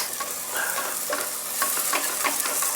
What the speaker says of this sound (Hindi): ginger garlic also is getting sautéed